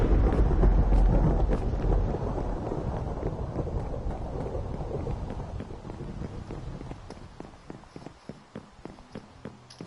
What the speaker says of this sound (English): God, that thunder